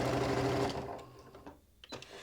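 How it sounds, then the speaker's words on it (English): A Janome sewing machine stitching Shannon Fabrics minky for a quillow runs steadily with a close, whirring motor hum, then slows and stops, leaving faint handling clicks. "I like to do this on live so that you can see where I'm sewing"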